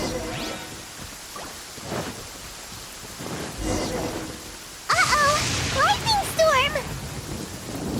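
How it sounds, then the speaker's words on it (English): Thunderstorm in the video game Genshin Impact: low rolling thunder rumbles over steady rain hiss, then a sharper, louder burst of storm noise joins game sounds partway through. "Lightning storm!"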